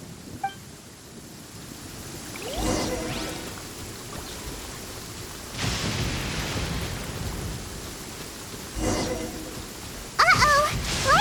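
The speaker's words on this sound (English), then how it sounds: "Uh-oh! Lightning storm!" Lightning storm in Genshin Impact: steady rain hiss with several rolling thunder rumbles spaced a few seconds apart, rising at the end with a sharper crack, no talk.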